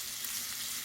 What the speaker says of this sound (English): I've got this up on high. So I'm going to fry these